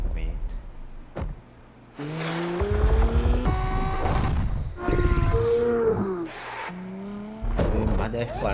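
A Ferrari F50 supercar in the racing game The Crew Motorfest, its engine revving up in rising and falling bursts with tire noise, and a voice talking over it in places.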